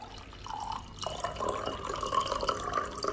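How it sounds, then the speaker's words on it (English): A drink being poured into a glass, a steady liquid trickle with drip-like splashes running throughout at moderate level, no voices. "He pours himself a drink and drinks from it."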